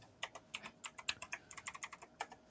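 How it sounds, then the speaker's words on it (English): Rapid, hard typing on a mechanical keyboard, a quick irregular burst of crisp clacky keystrokes at close range with no voices. "someone's rapidly typing hard. All right. That's Shannon with her mechanical keyboard."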